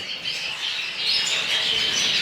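Canaries chirp and trill in a breeder's small aviary, a continuous bright twittering chorus that rises slightly in level partway through, with no talking.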